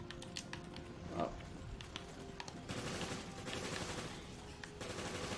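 Rapid gunfire bursts in the video game Resident Evil Revelations, sharp repeated shots rattling over dense, continuous game noise.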